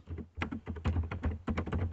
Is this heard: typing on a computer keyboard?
yes